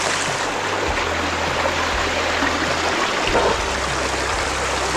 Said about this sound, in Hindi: अब ये पहाड़ के अंदर से पानी निकल रहा है।